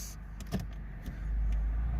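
A car's engine catches and settles into a low, steady idle after brief clicks and a short starting burst, heard close with nothing else around it.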